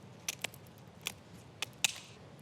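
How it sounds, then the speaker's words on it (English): Scissors snip through a Frenched rabbit rack, splitting it in half: a handful of sharp, crisp clicks spaced unevenly over a quiet kitchen background, the last cut slightly louder and longer. "To split that in half, we grab some scissors and just remove them."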